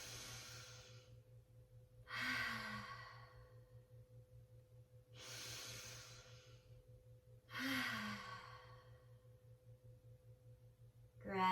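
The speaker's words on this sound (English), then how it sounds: "Big, deep, conscious breaths ease our nervous system." Slow, deep conscious breaths during a home yoga session: four long, airy inhale-exhale cycles at a steady unhurried pace, close and clear over a faint constant hum, with no talking.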